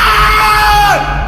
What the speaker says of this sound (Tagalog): nakarinig kami ng sigaw ng lalaki